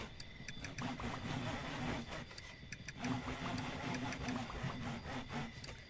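A printer runs inside the video game Mudborne, a steady mechanical whir with repeating rhythmic pulses and clicks that hold at an even level throughout, alone without talk.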